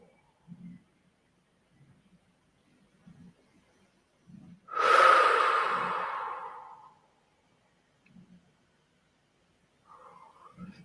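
Slow, soft meditative breaths recur at a calm pace, punctuated by one long, louder airy exhale or sigh that swells and fades over about two seconds.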